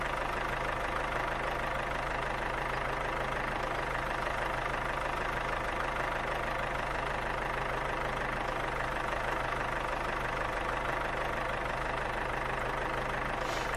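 A tractor engine idles in the Farmer's Life game, a steady, dense low rumble with a faint knocking texture that runs unbroken and evenly loud throughout, with no voices.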